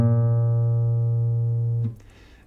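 One clean guitar note, A sharp fretted at the first fret of the fifth string, sustains evenly for nearly two seconds and is then muted, followed by faint fret and string noise.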